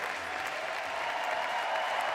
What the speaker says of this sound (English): The crowd on their feet to celebrate their hometown hero